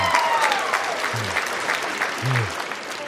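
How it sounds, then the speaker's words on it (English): A crowd claps in sustained applause, dense and steady, with a few low vocal sounds mixed in. "let's give everybody a round of applause"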